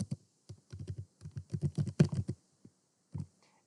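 Quick bursts of typing on a computer keyboard, close and clear, with rapid key clicks grouped into short runs, a brief pause, then a final few keystrokes.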